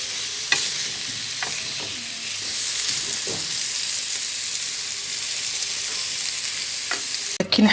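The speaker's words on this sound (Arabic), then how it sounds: "نصوتي غير شويه في الطاجين مع الخضر" Vegetables sautéing in a tajine make a steady, close frying sizzle with a few scattered clinks of stirring, followed by a louder clatter at the very end.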